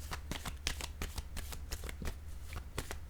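Tarot cards rustle and flick in a quick run of soft slaps and shuffles, close and quiet, with nobody talking.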